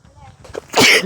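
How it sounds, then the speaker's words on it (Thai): A single loud, close human sneeze bursting at the end after a quick inhaling buildup, with a little vocal sound before it. "จาม"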